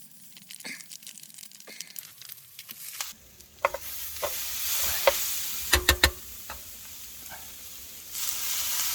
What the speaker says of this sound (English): That's got to simmer for 10 minutes now, so simmer away.